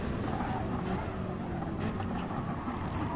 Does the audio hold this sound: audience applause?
no